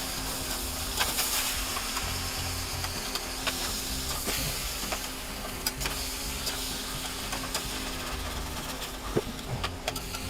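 Hamburger meat browns in a pan with a steady, close sizzle and the occasional scrape of stirring, continuous and fairly loud with no talking.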